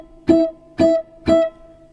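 Three clean guitar octaves on the G and E strings ring out one after another at an even pace, each plucked note close and clear with a short decay and no other sound.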